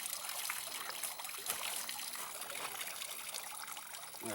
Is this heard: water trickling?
yes